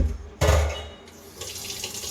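Tap water suddenly gushes into a kitchen sink as something is rinsed, first a loud splashing burst, then a steadier hissing stream that drops back and swells again.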